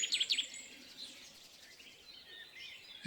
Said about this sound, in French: Vous laissez le chant des oiseaux venir.